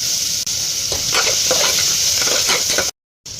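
Onion slices frying in hot tempering oil with cumin seeds give a steady, loud sizzle with scraping stirs, cut by a short silent gap near the end.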